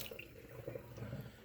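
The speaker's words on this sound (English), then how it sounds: "I use this, a wire or scrubber, and I scrub my potatoes as clean as I can" Potatoes are scrubbed with a wire scrubber under running tap water, giving a faint, quiet wash of flowing water with soft scraping and splashing.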